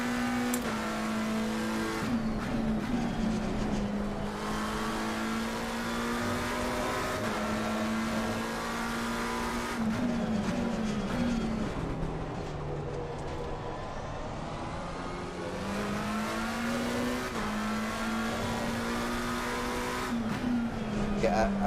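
A BMW M2 race car laps the Valencia circuit in Assetto Corsa Competizione, its engine note climbing through gears and dropping at shift points, steady and prominent for the whole lap while someone talks over it.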